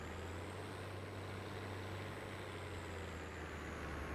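A farm vehicle with front wheels fitted, driving across fields in Farming Simulator 22 on the Lands of Italy map, a constant low engine drone with a steady hum and a broad rumble of movement, no talk.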